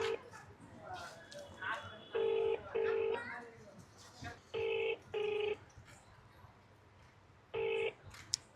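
A Google Pixel 6 dials out with a run of distinct keypad tones, in short bursts and then single beeps, while a person talks and a dog whimpers and barks quietly in the background.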